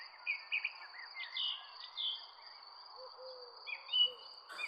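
A cartoon forest fills with many birds arriving: layered chirps, calls and hoots over a steady high insect-like whine, moderately loud and continuous with no speech.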